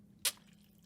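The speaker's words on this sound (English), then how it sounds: "I'm going to drink water." A single quick sip of water, one short wet slurp near the mouth, followed by quiet room hiss.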